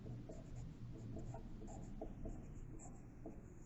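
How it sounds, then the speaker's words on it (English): Pen or marker writing a word on a coloring page of mandala-style art: soft, close scratchy strokes in short, irregular bursts over a steady low room hum. "Let me write that word for you."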